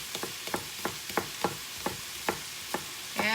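Rhythmic stirring and scraping of a utensil in a pan while ramen ingredients are mixed together for miso curry milk ramen, about a dozen short regular strokes over a faint background, close by, no speech.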